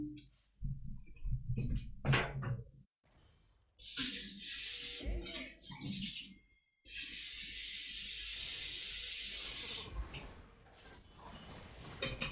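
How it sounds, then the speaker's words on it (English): A water tap filling a water bottle, with bursts of hissing flow broken by short pauses, then one long steady stream. Faint clicks and handling noises come before and between the bursts. "let me just fill my water just a second"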